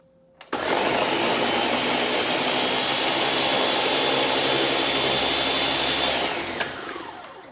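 A food processor grinds chicken for homemade hotdogs, starting abruptly into a loud, steady whirring roar that holds for about six seconds before tapering off.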